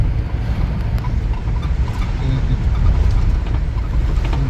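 A tour van drives through Hollywood, its steady engine and road rumble running continuously with wind noise inside the cabin, loud and close throughout.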